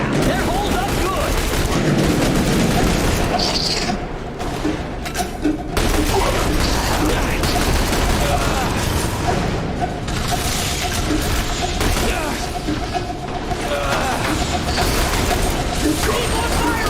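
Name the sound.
gunfire in The Bureau: XCOM Declassified video game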